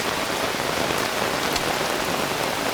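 Steady rain pours down in an Indonesian jungle, a dense, even hiss of drops hitting leaves and surfaces that stays loud and unbroken throughout, with no voices.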